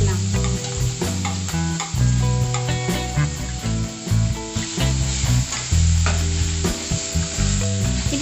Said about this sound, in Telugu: గీ మెల్ట్ అయిన తర్వాత ఇప్పుడు తురిమి పెట్టుకున్నాను కదా, వీటిని గీలో యాడ్ చేసుకొని వేయించుకుందాం